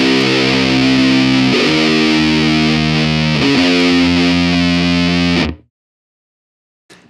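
Heavily distorted electric guitar plays a three-note riff, each note struck once and held for roughly two seconds, loud and sustained with an effects-processed tone, then cutting off abruptly into silence.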